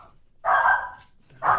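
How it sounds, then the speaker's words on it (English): A dog gives two loud barks, one longer and one short, close by, separated by a brief quiet pause over faint room noise. "Can you hear my dog? I can hear the fucking dog."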